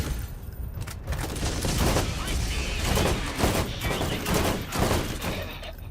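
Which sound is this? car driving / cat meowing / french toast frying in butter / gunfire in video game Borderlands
gunfire in video game Borderlands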